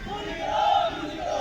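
Protesters in a police riot-control drill by the 42nd PAC battalion at Naini, Prayagraj, a massed crowd of voices shouting together in a sustained, swelling roar.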